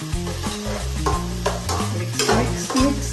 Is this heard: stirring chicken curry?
yes